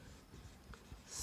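Soft, faint scratching of writing on a board during a physics lesson, a brief low rustle of strokes with no talk over it.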